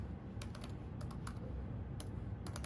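Clicky keystrokes on a computer keyboard while entering text in a Raspberry Pi terminal, coming in short irregular bursts of taps with pauses between them over a steady background hiss.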